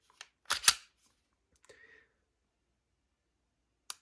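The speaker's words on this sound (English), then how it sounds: "Back out, hear the little click" A Taurus GX4 pistol trigger reset gives a few small, sharp clicks close up, separated by quiet gaps in an otherwise silent room.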